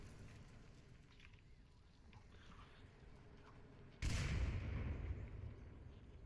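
A grenade detonates in a competitive video game scrim match: one loud, deep blast strikes about two-thirds of the way through over steady game ambience, then rumbles and fades over a second or two.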